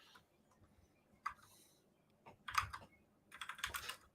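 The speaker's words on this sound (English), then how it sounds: "You're typing letters" Keystrokes on a computer keyboard come in a few scattered bursts, with a short tap, then a louder cluster and a final rapid flurry of clicks over a quiet room background.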